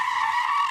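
A car's tires squeal in a sustained, loud skid just before a crash, a sharp steady screech used as a sound effect in a radio ad.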